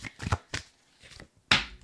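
Tarot cards are shuffled by hand in a few quick, crisp riffling bursts with short pauses between them, ending in one sharper snap.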